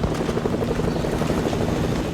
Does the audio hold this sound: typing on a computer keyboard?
no